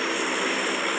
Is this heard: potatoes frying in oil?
no